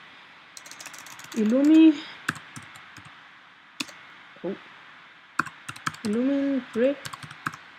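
Typing on a computer keyboard, irregular close clicks in short bursts, with a voice speaking Danish alongside the keystrokes.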